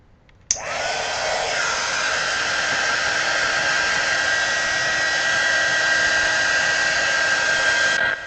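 A hair dryer switches on abruptly and blows a steady, loud, close whooshing whine while drying hair, running unbroken for several seconds before cutting off.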